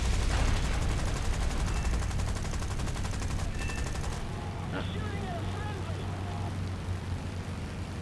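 War Thunder fighter combat: a Boomerang's machine guns hammer in a long rapid burst over a heavy engine roar, then fall away as the engine drone continues alone.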